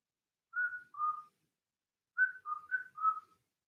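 A person whistles two short clear notes, pauses, then whistles four more quick notes, close and alone in a quiet room.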